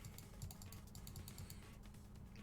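Rapid clacking keystrokes on a really old keyboard in the video game Zero Escape: Nine Hours, Nine Persons, Nine Doors, a quiet, even run of clicks with no talking.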